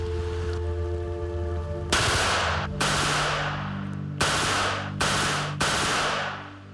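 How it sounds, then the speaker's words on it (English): A Czechoslovakian-made Scorpion machine pistol fires five loud, separate bursts over a steady low hum, each a sharp rattling spray of rounds followed by a brief pause. "This is a Czechoslovakian-made Scorpion machine pistol. It's capable of firing at a rate of"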